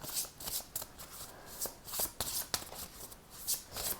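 Oracle cards shuffled by hand in a string of crisp, papery riffling bursts that come in an uneven rhythm, close and fairly quiet, with no voices.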